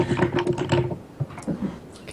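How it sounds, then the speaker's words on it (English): Rapid clattering keystrokes on a computer keyboard close to the microphone, a burst of typing followed by scattered lighter taps, with faint background voices. "What are we typing here, dude?"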